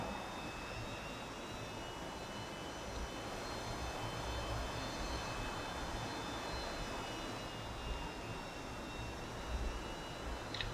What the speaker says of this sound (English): Let's go ahead and start taxiing out